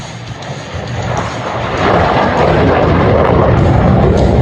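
A MiG-17 jet flying at an airshow in Duluth: a loud, broad engine roar that swells steadily over a few seconds, close and continuous, with no talk.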